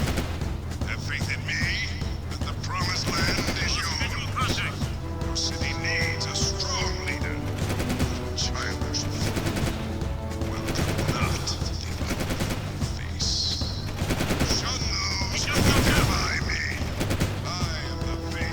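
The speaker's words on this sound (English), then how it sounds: "No, the turret's firing, but only when it's not on screen." Rapid bursts of turret gunfire in the video game Jak II, dense and continuous over game music and effects, with people talking over the action throughout.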